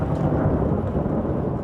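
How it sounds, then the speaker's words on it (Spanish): Thunder rolls over San Basilio de Palenque as a dense, low, steady rumble, loud and continuous for under two seconds with no voices. "Un trueno abre el carnaval de los tambores en San Basilio de Palenque"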